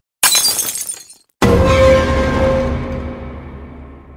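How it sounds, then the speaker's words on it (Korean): A coffee cup knocked off a café table smashes on the floor: a sharp crash with scattering shards, a brief pause, then a second loud breaking impact whose ringing fragments decay slowly, with no voices. "카페 테이블에 팔이 걸려 커피잔이 바닥에 깨졌다"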